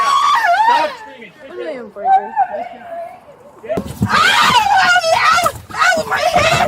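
A toddler screams and wails in long, high, strained cries that break off and then swell again, loud and close, while adults argue and shout over and between the screams.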